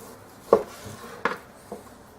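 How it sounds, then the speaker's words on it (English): A knife slicing through meat being cut into strips for jerky, heard as three distinct close cutting strokes against a board, separated by short quiet gaps. "And you just slice the whole thing."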